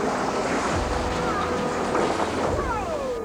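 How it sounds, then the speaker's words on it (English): Hurricane surf pounds a shoreline in a continuous heavy roar of crashing waves and wind, loud and unbroken, with a faint whistling tone drifting through. "A hurricane hitting the shoreline brings together all the stupendous force of the wide ocean"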